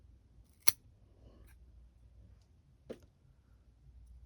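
Pruning shears cut through a thick stem of an 18-year-old Christmas cactus, giving one sharp, close snip and then a second, softer click a couple of seconds later against a quiet room.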